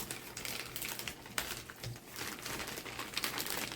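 Stiff paper envelope packaging crinkles and tears open in close, continuous rustling bursts while craft supplies are unboxed, with no talking.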